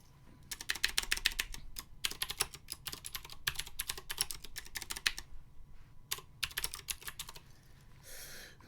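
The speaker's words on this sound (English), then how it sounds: "You can listen to me type loudly." Loud, fast typing on a computer keyboard, dense bursts of clacking keystrokes in quick runs with short pauses between, close up and with no one talking.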